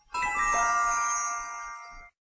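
A bell rung once at the end of cancer treatment at a cancer center, a bright metallic ding that rings out loud and close, then sustains and fades over about two seconds before cutting off.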